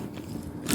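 Close, crisp bites and crunching on Spanky's pizza for ASMR, a single short crunch burst rising at the end, with no talk.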